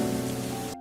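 Steady drizzling rain hissing evenly, a close, dense wash of patter that holds level and then cuts off abruptly near the end.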